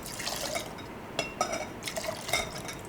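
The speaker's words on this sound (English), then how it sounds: "we'll go ahead and add the bourbon to it" Bourbon poured into a glass for a smoked Old Fashioned, a soft trickle with a few small splashes and drips, faint and close, no talking.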